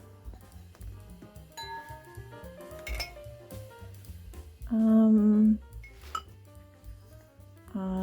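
Waterford crystal snifter and other glassware handled in a small condo kitchen, with repeated clinks and knocks of glass against glass and hard surfaces, and a brief louder ringing tone midway, fairly close.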